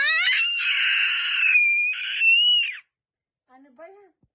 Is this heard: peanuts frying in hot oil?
no